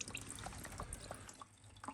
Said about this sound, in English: it'll open up the pipe enough to let some of the water drain out like that